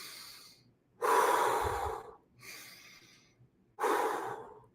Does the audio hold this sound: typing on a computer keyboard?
no